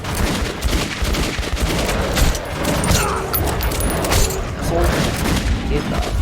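Revolver fire and combat noise against creatures in Metro 2033 Redux, a dense run of shots and booms layered with game effects and speech throughout.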